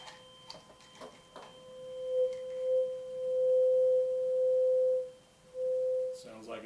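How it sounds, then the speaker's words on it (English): A 512 Hz high C tuning fork, one octave above middle C, rings in a resonance tube: a pure steady tone sounding in repeated bursts of varying length, clear and fairly loud, after a brief soft tap. "The third tuning fork I'm going to do is the musical note C. It's 512 hertz."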